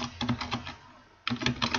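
Keys clatter in quick bursts as a name is typed on a computer keyboard, close and clear, with a short pause before a fresh flurry of tapping.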